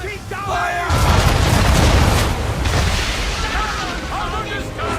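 Naval cannons fire from a sailing warship during a sea battle in Assassin's Creed III, with a heavy booming blast and rumbling roar that sustain over several seconds under shouted commands.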